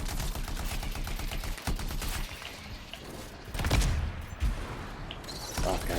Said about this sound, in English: Well, the gun I'm using is not bad.